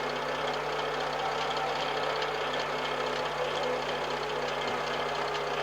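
Low, steady engine drone from a Fiat Ducato van running at low revs in Cargo Transport Simulator, a constant rumble without gear changes or pauses.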